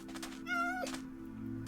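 A Halloween black cat in a video game gives a single clear, short meow, close and alone over a faint steady hum.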